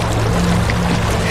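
A boat moves across a river at night, water sloshing and rushing steadily against the hull, loud and close with no break.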